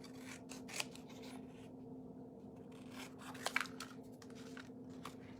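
Quiet scissors snipping through a paper template for a CD origami craft, a few soft irregular cuts and rustles close by with no talking.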